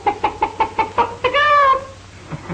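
A chicken clucks in a quick run of about seven short, evenly spaced calls, then a longer drawn-out squawk, close and clear with no talk over it.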